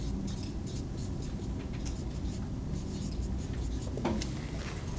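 Chalk or marker scratching across a board during an organic chemistry lecture, a steady close scraping texture under a constant room hum with faint background voice.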